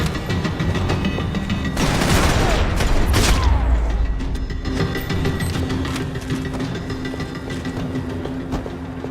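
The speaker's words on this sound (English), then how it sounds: "That's a shotgun, that's scary." Shotgun blasts from a Hitman-style stealth video game, loud broadband bursts around the two- to three-second mark over a dense, constant game soundscape with a brief voice.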